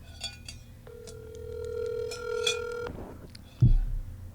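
A telephone call tone sounds as a long steady electronic ring through the line, then cuts off, followed by a sharp thump of handling, with faint background noise.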